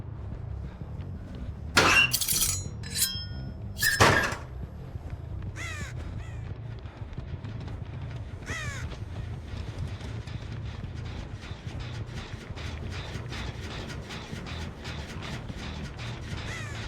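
Crows caw in a couple of loud, close bursts, then fainter calls follow over a continuous low ambient hum in the horror game Dead by Daylight, as the birds land.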